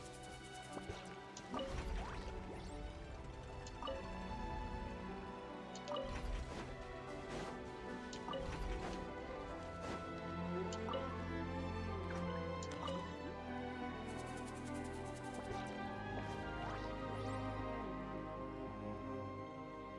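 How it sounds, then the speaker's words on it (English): Water ripples in small waves inside a video game, a steady liquid sloshing with scattered drips and soft splashes over a constant background bed. "It's making little waves in the water."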